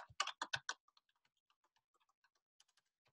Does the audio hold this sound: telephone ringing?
no